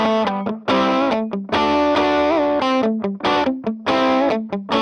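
A distorted electric guitar lead on the bridge pickup, with bright, sustained singing notes and bends between choppy phrases, loud and upfront with no voices.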